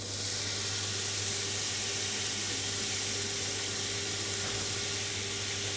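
Bell peppers fry in a thin layer of oil in a pan, giving a loud, steady, unbroken sizzle with a low hum beneath it and no talking.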